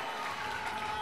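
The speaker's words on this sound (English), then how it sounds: "The crowd is going wild." Applause and cheering from a crowd at a national shuffleboard doubles final in Brooklyn, a steady dense wash of clapping that fills the whole moment without letting up.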